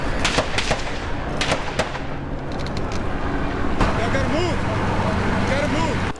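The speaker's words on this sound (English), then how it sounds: "Rounds went off in the distance" Gunshots during a police standoff in a neighborhood: a burst of sharp, distant cracks early on, then steady outdoor rumble with a faint passing siren wail, no speech.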